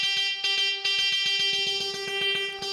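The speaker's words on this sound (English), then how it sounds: "we've got the first guitar is holding a G." An electric guitar holds a steady, bright, buzzy G note from a track, with quick rhythmic pulses chopping through it. The sound is loud, sustained and without speech.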